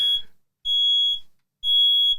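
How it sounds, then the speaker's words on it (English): Smoke alarm blaring in a studio during a gaming post-show, a high piercing electronic tone sounding in two long bursts with short gaps between them, loud and alone. "The fucking fire alarm's going off."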